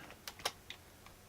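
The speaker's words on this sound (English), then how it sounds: "It's way faster to do this sort of work with the keyboard strokes" Quick keyboard shortcut keystrokes on a computer keyboard while editing in GIMP, a few light close clicks in a short burst.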